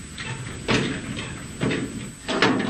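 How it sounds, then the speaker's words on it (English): A locked door in a Vietnamese prison is tried three times, each attempt a short dull rattle and knock against the frame, close by, separated by quiet room tone with a faint steady whine. "This door, however, is locked."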